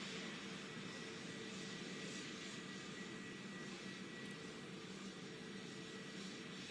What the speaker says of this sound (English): Continuing to see this plane here making that long journey across the very big tarmac